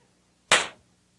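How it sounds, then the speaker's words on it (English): A single sharp crack from a magician's trick gun fired at a held deck of cards on a 1987 comedy TV show. The bang comes close and loud and fades in a short tail. "I'm going to fire the steady weapon at Kevin's head"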